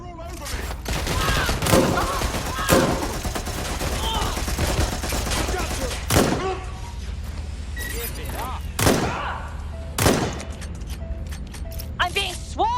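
Gunfire in the Watch Dogs Legion video game, with repeated sharp shots and bursts scattered across a busy, dense mix of mechanical game sounds, loud and close, and voices talking at times.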